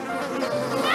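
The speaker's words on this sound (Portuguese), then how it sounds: "Praga das moscas." A dense, steady drone of countless flies buzzing together, a thick swarm filling the whole moment with a continuous, close, wavering hum.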